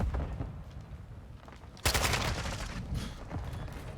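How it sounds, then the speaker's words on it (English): Assault rifle fire rattles in Modern Warfare II, with rapid bursts of shots over a busy battlefield, jumping to a louder close volley midway, then continuing in scattered fire. "this is an assault rifle"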